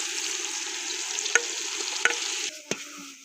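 Spices sizzling in hot oil for kofta pulao while being stirred, a steady loud crackle with a few sharp scrapes of the spoon against the pot, the sizzle dropping off near the end.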